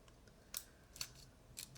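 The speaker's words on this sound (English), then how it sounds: "I swear my scissors are sharp on a good day" Scissors snip three times through a piece of backing material for a Funnyplaying Game Boy Color IPS screen kit, each cut a short, crisp close-up click against a quiet room.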